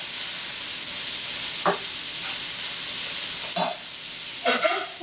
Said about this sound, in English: I want you to start turning your meat just so you can start getting a brown tint to the other side